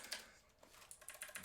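Soft, quiet keyboard typing, a handful of irregular key clicks with a brief lull before a quicker run of taps, heard alone without talk.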